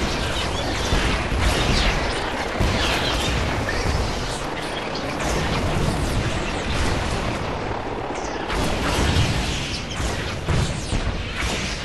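Sonic emitter base defences destroying an enemy army in Command & Conquer 3, a dense, loud, continuous wash of blasts, rumbling explosions and mechanical weapon noise with no pauses.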